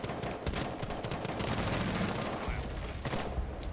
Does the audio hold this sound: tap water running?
no